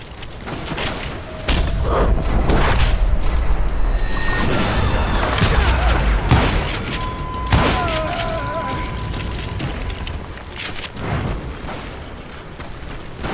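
Chaotic gunfire shootout in the Western video game Call of Juarez Gunslinger, loud overlapping shots and impacts crowding together, with some thuds and a brief tonal effect mixed in, no speech over it.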